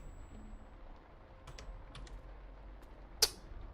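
Typing on a computer keyboard while playing Cataclysm DDA, a few sparse, quiet keystrokes spaced apart, then one sharper, louder key press near the end.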